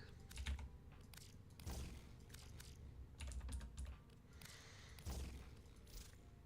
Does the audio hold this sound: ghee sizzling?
no